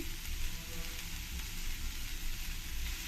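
Finely chopped vegetables and salt frying in hot oil for momos with tomato chutney, giving a continuous, even sizzle and crackle, close and fairly loud with no voices.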